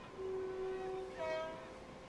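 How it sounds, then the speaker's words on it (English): A GWR Class 230 battery train sounds its horn in a British Railway video game: two sustained horn tones, the second higher, over a steady low rumble of the moving train. "I'm currently driving a GWR Class 230 or battery train"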